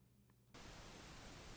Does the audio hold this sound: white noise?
yes